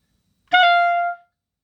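A single clarinet note, a quick bend from G sharp down to G, played close and clear, about half a second long, sustained then cut off, alone in silence.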